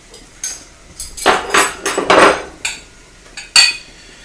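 A grill slid aside mid-cooking in a home kitchen, producing a series of close metallic clanks and scraping knocks, several sharp hits spaced irregularly with louder sliding bursts in the middle.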